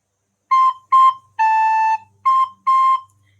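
Five clear, pure whistly tones of the note A on a recorder, the middle one held longer, each breathy and close, with brief silences between.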